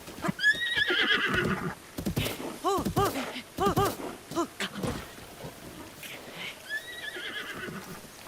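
Horses in The Legend of Zelda: Breath of the Wild whinny and neigh repeatedly over a soft background of rain, with a few clopping hooves; the calls are fairly close and clear.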